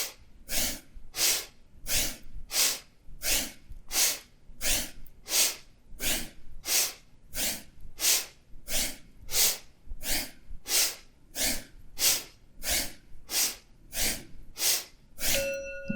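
Sharp, forceful breaths pump in a steady, quick rhythm during a Kundalini yoga forward fold, each puff a crisp rush of air repeated dozens of times, close and clear with no talking.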